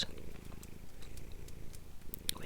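A cat purrs close by, a soft continuous low rumble with gentle rhythmic pulses, quiet and intimate, with a few faint clicks and a light tap near the end.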